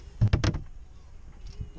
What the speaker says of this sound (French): Donc là j'ouvre la porte.